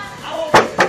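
Two quick hollow knocks on the bare rear door panel of a Suzuki Wagon with no sound-deadening insulation, close and loud, the first following a moment of speech.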